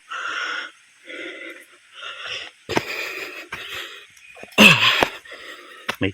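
A person breathing hard and panting after climbing a steep uphill trail to a creek in Cavite, heard as loud, rasping, wheezy breaths close to the microphone in several uneven bursts, with one sharp gasp near the end.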